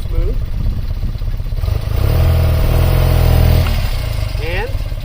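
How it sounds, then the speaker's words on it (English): An air-cooled BMW airhead boxer motorcycle engine runs steadily and smoothly after valve, timing and carburetor synchronization work, a close, even throb with a brief swell midway, while a person talks over it. "Engine runs pretty good."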